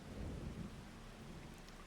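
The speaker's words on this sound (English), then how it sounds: "And it's raining." Rain falls steadily in Farming Simulator 25 with a low, rolling rumble of thunder underneath, a dense, even wash of sound and no voices.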